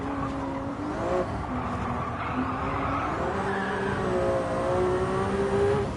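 A hybrid race car lapping a track in Gran Turismo 7, with a steady engine drone whose pitch rises and falls through shifts and corners, plus hints of tyre squeal, loud and continuous with no voices.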